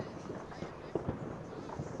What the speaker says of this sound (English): half the bonfire bits are going off